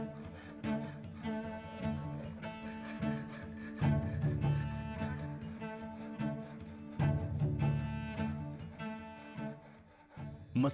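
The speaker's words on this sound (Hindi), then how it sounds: "सतह को सैंड पेपर की मदद से भी चिकना किया जाता है।" Sandpaper rubs steadily across a wooden surface, smoothing it by hand in a craft workshop, with continuous rasping strokes that swell and fade in a repeating rhythm, close and fairly loud.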